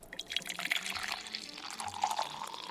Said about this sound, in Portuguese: Mas primeiro deixa eu fazer o refil do meu café